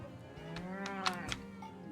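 Cattle mooing in the Farthest Frontier video game: a drawn-out, resonant low moo with rising and falling pitch, carried over a soft layer of game ambience and a couple of faint clicks.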